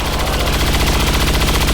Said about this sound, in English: He's going to fire at that stun lancer.